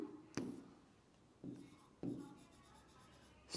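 A pen scratches across a paper nervous-system diagram in several short, close strokes with pauses between them.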